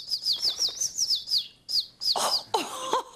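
A small pet bird named Zozo chirps in quick repeated trills, a rapid run of bright tweets followed by a few louder, separate calls, close and clear with no voices.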